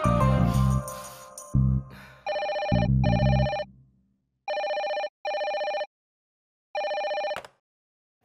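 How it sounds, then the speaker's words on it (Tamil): Telephone rings in an electronic pattern of repeated tonal bursts with short gaps, clear and close, after a brief snatch of louder sound at the start. "ஐயர் அங்கிளோட போன் அடிக்குது."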